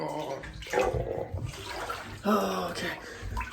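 Cold bathwater splashes and sloshes in bursts as someone lowers into a tub, with a short gasping exclamation and faint speech mixed among the close water movements.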